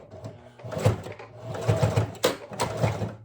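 A sewing machine stitches straight seams with back stitching, its motor humming and needle clattering in a fast steady rhythm that briefly pauses and restarts, close and clear without talk.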